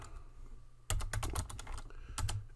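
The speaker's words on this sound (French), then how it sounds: "je vais taper menu" Keys clatter on a computer keyboard in a quick burst of close, crisp keystrokes. A softer pair follows after a short gap, over a low steady hum with no voices.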